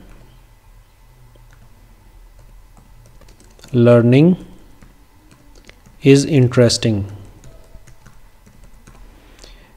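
Python code being typed on a computer keyboard, a quiet, rapid run of key clicks under someone speaking Hindi, with the tapping continuing between his two short phrases.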